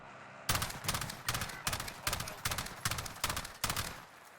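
AUG rifle firing in Call of Duty: Warzone, eight evenly spaced loud bursts of rapid automatic shots with brief gaps between them and no talking.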